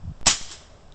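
A Ruger 1000 air rifle fires a single sharp snapping shot from a front porch during a .22 and .177 penetration test at 45 yards, a crisp crack with a short fading tail.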